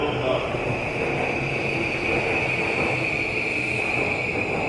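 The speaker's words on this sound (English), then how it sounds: "So we can take whatever train is arriving first. The green Yamanote or the blue Keihin Tohoku." A Tokyo commuter train on the Yamanote or Keihin Tohoku line rumbles steadily close by, with a constant high whine from the running train.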